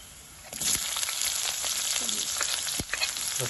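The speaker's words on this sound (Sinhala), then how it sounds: "සුල් ටිකක් බැදෙනවා." Ingredients fry in hot oil for a Sri Lankan wal kohila leaf curry, making a dense, steady crackling sizzle broken by occasional sharp spits and stirring clanks, close and constant throughout.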